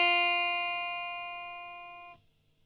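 A single guitar note is played on the first string pressed at the first fret. It rings clean and steady for about two seconds, fades gradually and is then cut off abruptly, with nothing else around it.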